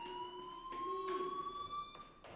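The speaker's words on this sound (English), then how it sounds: "do you hear that fire alarm? That means you should be outside." A fire alarm blares inside the Life Is Strange video game, a steady electronic tone with pulsing bursts, sounding somewhat faint and constant for the whole stretch.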